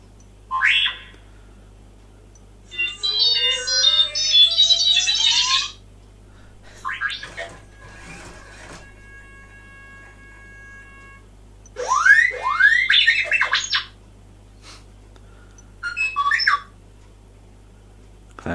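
A DeAgostini build-your-own R2-D2 model robot chirps and whistles in bursts of warbling electronic beeps and rising and falling sweeps, separated by short quiet gaps, close and clear, with nobody talking.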